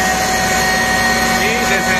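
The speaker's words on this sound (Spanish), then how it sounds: "Ya activó el ventilador" Cooling fan on a FIAC screw air compressor, switched on once the machine reaches operating temperature, running as a steady, loud whirring drone with a faint tonal hum throughout.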